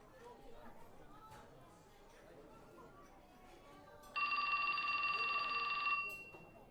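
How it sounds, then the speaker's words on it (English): Cell phone ringtone in the video game 428: Shibuya Scramble, a shrill electronic ring burst of about two seconds cutting in over quiet background murmur. "Who would willingly set that to their cell phone ringer?"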